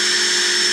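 A Dewalt DCD776 18V cordless drill with a 7mm bit bores straight down into a piece of wood, a loud, steady whine held for under a second with no pause.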